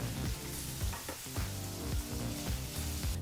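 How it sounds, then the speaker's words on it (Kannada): Onions fry on a medium flame for a mushroom gravy, a steady sizzle broken by rhythmic spatula strokes against the pan about every half second, close and unaccompanied by speech. "ಈಗ ಮೂರರಿಂದ ನಾಲ್ಕು ನಿಮಿಷ ಮೀಡಿಯಂ ಫ್ಲೇಮ್ನಲ್ಲೇ ಈರುಳ್ಳಿನ ಚೆನ್ನಾಗಿ ಫ್ರೈ ಮಾಡ್ಕೋಬೇಕಾಗತ್ತೆ"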